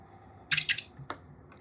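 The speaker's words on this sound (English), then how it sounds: "I really need to put some soap on that bobbin so that way it'll quit squeaking." A fly-tying bobbin squeaks in two quick close bursts followed by a brief faint click while thread is wrapped on a fishing jig, loud and alone with no talk.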